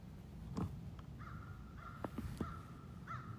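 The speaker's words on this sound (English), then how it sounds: "the freaking crows come by" Three crows pass overhead, cawing in a few harsh, drawn-out calls with short sharp croaks between them, moderately near against a steady outdoor background hum.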